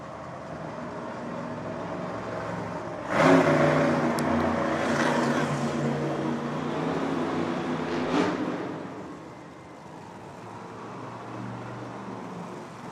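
Grave Digger monster truck's engine roars through a timed race pass at a Monster Jam event in Buffalo, NY: a loud rising rev surge, sustained throaty running, another burst, then easing off, heard over a distant arena.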